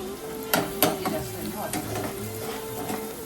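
Mixed vegetables stir-frying in a pan with turmeric and chili powder, a steady close sizzle punctuated by a couple of sharp stirring clanks.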